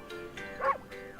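In the Ōkami video game, a white wolf gives a single short yipping bark midway, close and clear over quiet game ambience.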